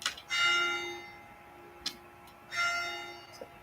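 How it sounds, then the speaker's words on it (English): A bell rings twice, each strike a bright ringing tone that decays over about a second, with no voices, over a low background hum. "The fucking shit with this fucking bell."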